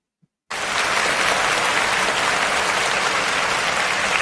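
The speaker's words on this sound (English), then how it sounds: "Let's give her a round of applause because she deserves it" A live audience breaks into a loud, sustained round of applause after a brief moment of quiet. The clapping holds steady and dense to the end, with no talking over it.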